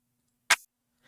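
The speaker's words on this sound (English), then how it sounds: "Let's play some claps" A single sharp clap sample from the Sauceware Audio Sick Sh!t Vol. 1 drum kit, dry and bright, followed by a faint softer hit near the end.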